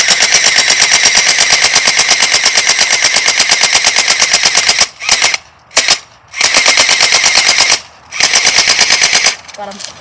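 TANSAR gel blaster, a small toy gun, firing in long rapid full-auto bursts, a steady mechanical rattle of shots broken by a few short pauses and a last brief burst.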